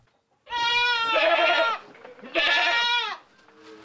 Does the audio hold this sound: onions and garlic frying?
no